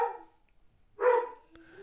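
A dog barks twice, a short bark followed by a louder, longer one after a brief pause, fairly close, with a faint high yip after it and no talking.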